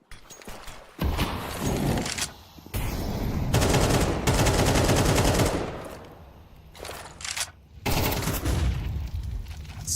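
Rapid automatic gunfire in a Counter-Strike match, dense bursts of rattling shots with short gaps between volleys, loud and continuous, some bursts nearer and heavier than others.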